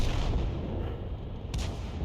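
A Lorraine 155 50 artillery gun fires in a video game, giving one heavy, booming shot with a dense low rumble that carries through the whole short stretch.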